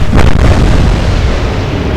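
A naval gunfire salvo in the Atlantic Fleet warship game booms out as a loud, continuous roar with a sharp crack near the start. The dense rumble then stays heavy and sustained to the end.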